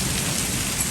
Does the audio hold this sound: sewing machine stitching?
no